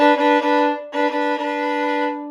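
A violin sounds a sustained two-note double stop using the open D string, bowed in two strokes with a short break between them, clear and close.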